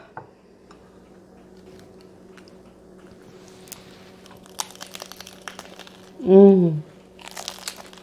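Crunchy bites into crispy fried chicken ranch tacos dorados, a loud crackling crunch near the mic after a quiet stretch, followed by softer chewing and a brief murmur.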